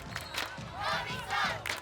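A basketball crowd at a FIBA 3x3 World Tour event in Saskatoon roars and cheers in swelling bursts of massed voices, loud but somewhat distant, rising and falling over a couple of seconds.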